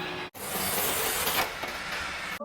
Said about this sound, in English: This machine is for bag packing. It will fill in the powders into the bag and then sealing.